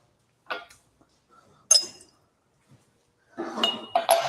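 Fresh drinking glasses being set out and knocking together, a few separate sharp clinks and taps spaced apart, the last ones louder and clustered close together.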